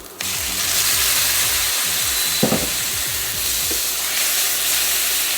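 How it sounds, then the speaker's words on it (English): Ground beef sizzling and frying in a hot pan with the heat turned down, a steady close hiss throughout with a few brief stirring scrapes and knocks, no talking. "I'm going to add in the ground beef"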